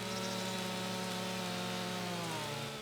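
A chainsaw in Farming Simulator 25 runs steadily as it cuts trees, giving a continuous buzzing engine whine with a pitch that stays fairly level throughout.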